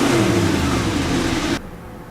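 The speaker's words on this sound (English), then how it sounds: "should we give it a rev?" A supercar engine revs hard inside a customisation workshop, a loud sustained roar that cuts off abruptly near the end, leaving a quieter idle.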